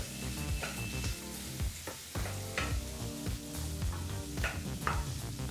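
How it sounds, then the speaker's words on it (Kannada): Chopped onion fries in a pan over a medium flame, a steady crackling sizzle with occasional stirring clatters throughout, close up and with no speech. "ಈರುಳ್ಳಿನ ನಾಲ್ಕು ನಿಮಿಷಗಳ ಕಾಲ ಮೀಡಿಯಂ ಫ್ಲೇಮ್ನಲ್ಲೇ ಫ್ರೈ ಮಾಡ್ಕೋಬೇಕಾಗತ್ತೆ"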